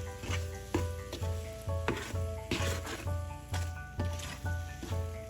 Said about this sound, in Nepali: अब यसलाई चाहिँ कन्टिन्यू चलाइराख्नु पर्छ। चलाउन नछोडिकन यसलाई पकाइरहनु पर्छ।